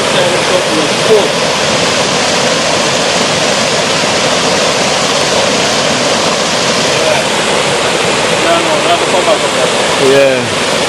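Cold spring water pours steadily in a continuous, loud rushing wash, with a few faint voices and a brief clatter near the end.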